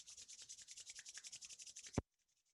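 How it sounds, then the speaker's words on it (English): Palms rubbing briskly together in a steady back-and-forth rhythm, close and soft, then a single sharp bump and quiet. "rub your hands together"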